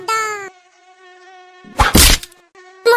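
A cartoon mosquito buzzes in high, thin whining bursts, loud and close, broken by a sharp slap-like hit, alongside music or singing with no spoken words.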